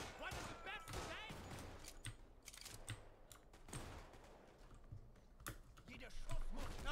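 Bursts of rapid gunfire in a multiplayer shooter game, sharp cracks recurring across the span under lively, excited player chatter.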